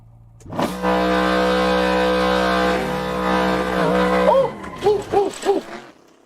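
Revving car engine with a 20% turbo setting in the Assetto Corsa racing game, a loud sustained harmonic drone that ends in a quick series of rising and falling rev blips and gear shifts, with no talking.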